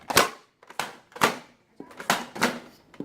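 A Nerf toy blaster fires in rapid succession, giving six sharp plasticky pops at an uneven rhythm with short gaps between them, close and loud with no voices.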